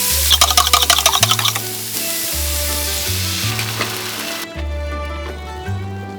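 An egg and oyster mushroom dish frying in a pan, a loud, close sizzle that crackles busily at first and then settles into a steady hiss, with background music running underneath.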